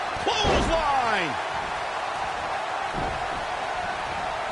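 A sharp slam opens a clothesline move in a PS4 wrestling video game, followed by swooping electronic game tones over a steady hiss of crowd-like background noise.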